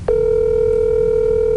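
A steady telephone dial tone starts abruptly after a brief click and holds unbroken for over a second and a half, clear and fairly loud over a faint low background hum.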